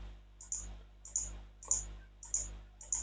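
Five sharp mouse clicks on the Increase Indent button in Microsoft Word, evenly spaced about half a second apart, close and crisp over a faint steady hum with no talking.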